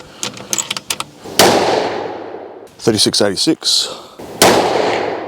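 Tikka T3x 22-250 rifle with a 26-inch barrel firing outdoors, two loud sharp cracks each trailing into a long fading echo, with someone talking briefly before and between the shots.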